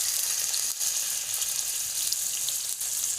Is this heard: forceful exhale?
no